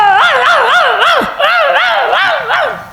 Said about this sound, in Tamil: வெறிநாயா குடியிருக்கும் போல இருக்கு